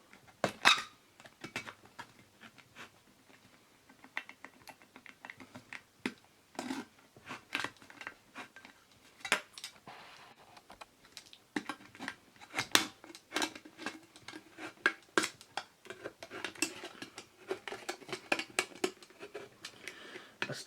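An old coffee can is cut in half with snips, sharp metallic clicks and crunches coming in irregular bursts up close, a dog barking now and then nearby.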